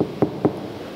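Knuckles rap twice on a sound-insulated car door, giving two dull, muffled knocks close by, evenly spaced, with nothing else over a quiet background.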